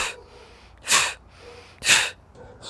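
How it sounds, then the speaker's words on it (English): Dramatic somatic breathing, drawn in through the nose and pushed out through the mouth: two strong, breathy exhales about a second apart, each rising sharply and then fading, with softer inhales between them and no talking. "you inhale through the nose and out through the mouth. And when you exhale, you push the air out dramatically."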